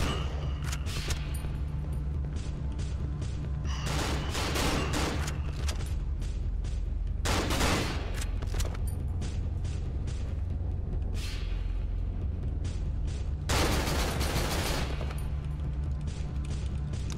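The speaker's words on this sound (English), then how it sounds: "Why do I have to shoot things with guns?" Gunfire in the horror video game Cry of Fear, bursts of sharp shots over a steady low game drone, with louder clusters of blasts recurring every few seconds.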